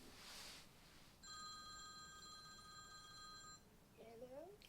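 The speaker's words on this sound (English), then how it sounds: "Oh, my phone." A mobile phone rings indoors with a repeated electronic trill in two steady bursts, fairly faint, followed by a brief spoken voice near the end.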